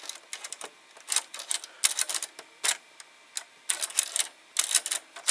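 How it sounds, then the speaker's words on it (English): Hand-moved tape guide mechanism of an MTC MCR 215R VCR gives off a rapid, irregular series of close, sharp mechanical clicks and ticks with brief pauses. "you can move this manually, and it will load the tape guide."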